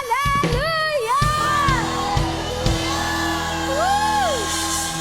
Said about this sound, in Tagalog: we shout Hallelujah!